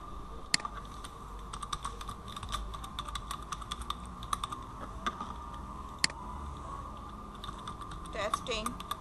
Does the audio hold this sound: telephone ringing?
no